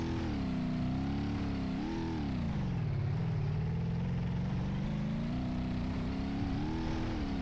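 Ibishu Hopper engine in BeamNG.drive running a lap in two-wheel drive with open differential, a continuous mid-pitched engine hum rising and falling with throttle, steady and close with no talk.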